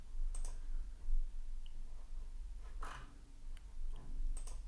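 A few sharp computer mouse clicks, spaced irregularly and close by in a quiet room, with faint background noise between them.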